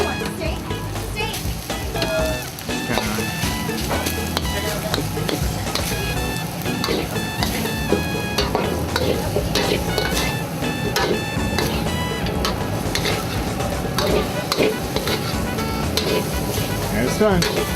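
Steak fries with rice in a pan, a constant loud sizzle under busy clatter of stirring and other household noise, with faint children's voices in the background throughout.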